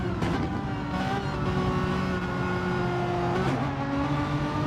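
Race car engine in a Nurburgring endurance sim race, a loud sustained howl with rising harmonic pitch as it accelerates, with other engines droning nearby.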